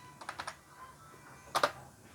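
A few quick keystrokes on a computer keyboard while entering a Python install command for a robot arm, one short burst of taps, then a brief louder double click near the end, fairly close and quiet.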